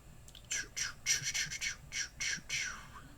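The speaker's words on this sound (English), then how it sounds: "Look, it's a pigeon." Pigeon squawking in the video game Tibia, a series of about eight short raspy squawks in an uneven rhythm, fairly close and alone over a quiet background.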